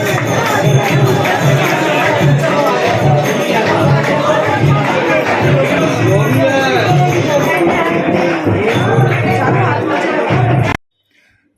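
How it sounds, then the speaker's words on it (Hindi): A dense crowd of devotees packs Kalkaji temple, a continuous loud roar of many overlapping voices with rhythmic devotional kirtan pulsing underneath, steady throughout before cutting off abruptly near the end. "एकदम दोनों तरफ से भीड़, एकदम भागे चले आ रहे थे लोग, और बहुत ज़्यादा रश हो गया था।"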